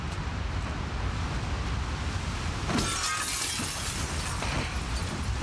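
Glass shatters in the video game The Last of Us Part II with a bright crash that cuts through steady, loud background noise like wind. A scatter of smaller tinkling pieces follows, and no one speaks.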